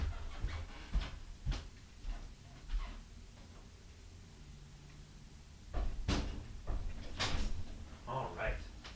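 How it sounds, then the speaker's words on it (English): A room door is closed indoors with several close knocks, clunks and a latching thud, brief sharp impacts scattered through the clip with shuffling between them. "I got to close this door over here so we don't get interrupted"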